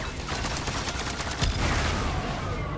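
A submachine gun in the vehicle-building video game Trailmakers fires a rapid, even stream of shots, quiet and continuous throughout with a rattling texture and no voices over it.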